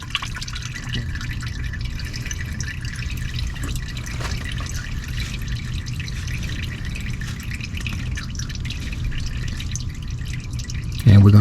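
Kirkland Signature full synthetic oil drains from a car that holds 8 quarts into an oil pan, a steady close trickle with a continuous liquid rush that runs throughout, ending in a brief louder bump.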